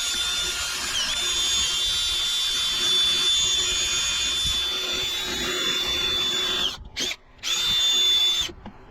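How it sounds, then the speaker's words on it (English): A power sander works a cedar crotch log, droning loud and close with a steady high whine for several seconds, then briefly cuts out twice before starting up again, with no voices. "I'm gonna sand it a little bit though."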